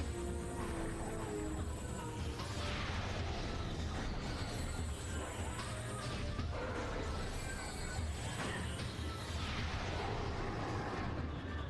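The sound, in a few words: super missile firing and exploding in Metroid video game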